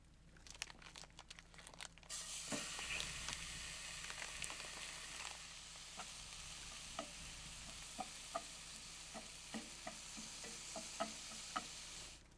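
Hamburger meat fries in a pan at a winter desert campsite, a soft continuous sizzle with repeated scraping stirs and sharp utensil taps against the pan, close and fairly quiet.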